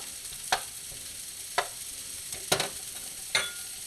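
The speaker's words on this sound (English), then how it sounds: "Put your dab of butter in the middle of it." A dab of butter in a pocket of shrimp and pork fried rice sizzles softly in the pan, with a few sharp spatula scrapes and clacks spaced about a second apart.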